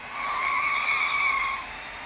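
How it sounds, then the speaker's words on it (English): Tires skid and squeal steadily as a car drifts in a racing video game, a sustained high-pitched screech lasting about a second and a half before easing off. "increase the tire temperature, stay on track, and do some skidding or drifting"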